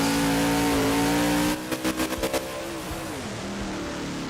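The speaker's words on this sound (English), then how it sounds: "I love the way the throttle sounds in the air" A monster truck engine in BeamNG.drive, at a Houston 2015 freestyle, drones loudly and rises in pitch, then gives a quick series of throttle blips while airborne before settling into a steady lower hum.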